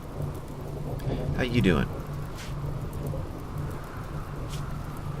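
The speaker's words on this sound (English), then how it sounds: "We have a rainy thunderstorm coming in." Rainy thunderstorm in the video game RimWorld: steady rain hiss with a brief rumbling thunder swell near the start, continuing under a short spoken line.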